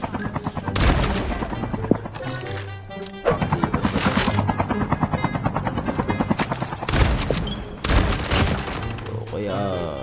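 A helicopter in the Call of Duty Mobile battle royale game thrums steadily and loudly through most of the stretch, with bursts of gunfire cutting in and out and players talking over it.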